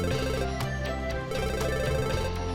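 A ringing telephone in the management game Mad Games Tycoon, loud repeated electronic ring bursts over a sustained tonal music bed.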